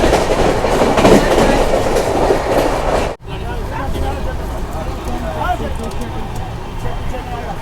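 The Howrah Secunderabad Falaknuma Express rolls along the rails with a loud, close rumble and rhythmic clatter of wheels, briefly dropping out before continuing with rattling carriage noise as people talk over it.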